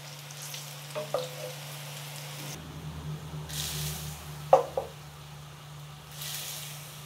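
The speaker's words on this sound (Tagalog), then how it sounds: "pirituhin na natin to" Food frying in hot oil with a continuous low crackling sizzle, a few sharper pops and spatters partway through, heard up close with no talking.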